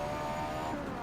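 A Mitsubishi GTO racing in Forza Motorsport 7 builds a steady, loud engine drone with a sustained tone as it runs onto a straight, holding a constant pitch throughout without any talk.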